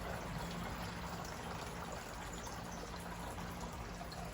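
A garden water fountain trickles and splashes in a steady, unbroken wash, close and moderately quiet, among flower boxes with no voices.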